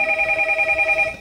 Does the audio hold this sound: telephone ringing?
yes